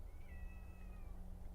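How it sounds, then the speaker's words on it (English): A single drawn-out cat meow near a greenhouse where vegetable seedlings are being transplanted, faint and moderately close over a low steady background hum. "And now the cat is coming around here to scream and holler at me"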